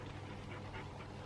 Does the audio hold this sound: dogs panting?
yes